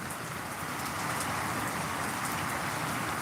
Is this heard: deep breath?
no